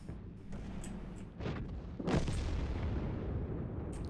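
Artillery shell impacts in World of Tanks, heavy booming hits that land one after another with a rumbling tail, moderately loud, no talking.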